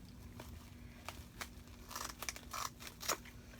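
Scissors cut through many stacked layers of material for a Dollar Tree candle ring, giving soft, close snips and crinkly crunches that grow denser and louder toward the end.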